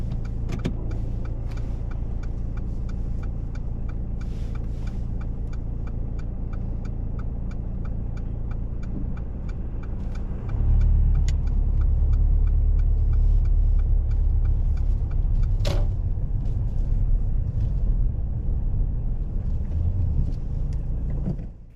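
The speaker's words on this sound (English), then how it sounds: "Lovejit carries out the parallel park really well, making sure to check both blind spots before starting to reverse" Car reversing slowly into a parallel park during a UK practical driving test, with a steady low engine hum that grows louder and heavier partway through, heard from inside the cabin with no talking.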